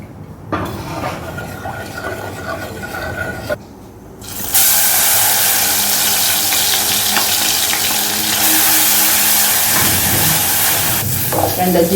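Ginger and garlic fry steadily in a pan, a loud, continuous sizzle that jumps up in intensity partway through and keeps crackling close up, with no voices.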